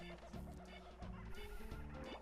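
A bird squawks and honks in Space Station Silicon Valley, the video game, in several loud bursts over a steady layer of game music, with no talking.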